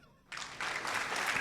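Applause starts abruptly after a quiet moment and swells into a steady, soft wash of many clapping hands at some distance, continuing to the end.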